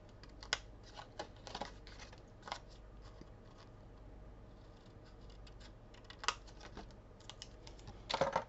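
Scissors snipping paper for a small scrapbook tag, faint scattered clicks and snips with quiet pauses, close by in a calm room.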